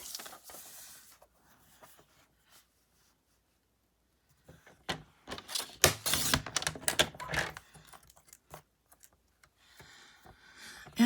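A paper trimmer slices through scrap paper strips, making a burst of dense, rapid clicking and scraping at close range after a quiet start. Softer taps follow, and no one speaks.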